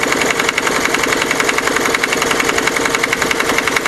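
A Hatz E79 diesel engine that puffs blue smoke when revved runs steadily, a loud, close, rapid knocking chug with a constant rhythm and no voices over it.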